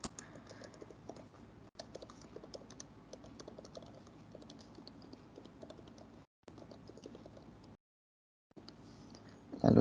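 Someone types a name and student number on a computer keyboard, producing steady, close, rapid key clicks. The typing pauses briefly twice, then resumes and ends with a slightly louder keystroke.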